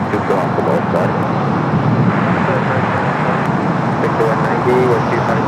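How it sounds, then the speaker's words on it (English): Emirates Airbus A380 lining up for takeoff on the north side at LAX, a steady broadband jet engine roar holding level throughout with airport ambience and no clear rise or peaks. "Emirates A380 Super lining up there on the north side."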